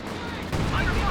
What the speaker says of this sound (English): Barraging the middle again with the howitzer.